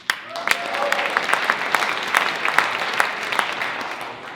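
An audience at an Irish heritage festival in Burlington breaks into sustained applause and cheering, with many close claps rising over a continuous crowd roar.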